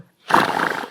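A person's voice imitates a horse's neigh or whinny, one loud, close, sustained call lasting most of a second after brief silence.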